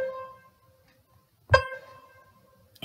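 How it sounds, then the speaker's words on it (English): A single piano C note is struck once, ringing clearly and decaying gradually, preceded by the faint tail of another sustained tone and near silence. "So if we have a look at the piano,"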